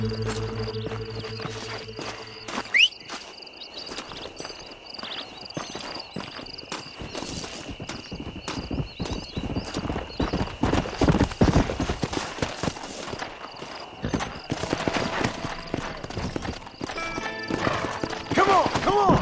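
Horse riding in the video game Red Dead Redemption (2010): steady galloping hoofbeats drum along close and loud for most of the stretch, with a brief neigh and voices talking early on.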